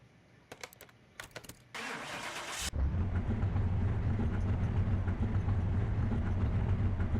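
A car engine cranks and catches in Car Mechanic Simulator 2021, then settles into a loud, steady idle that holds to the end, preceded by a few faint clicks.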